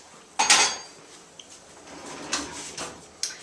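A mixing bowl of cocoa chocolate beet cake batter is set down on a kitchen counter, giving a few close, sharp clinks and clatters with quiet pauses between them.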